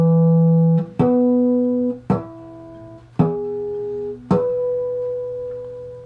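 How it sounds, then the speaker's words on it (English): Synthesized pure tones stand in for the overtones of a guitar's E note, sounding as four clean sine-like notes in succession, each entering with a soft click and sustaining steadily before the next. "some of the overtones sound like this"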